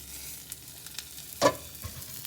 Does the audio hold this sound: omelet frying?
yes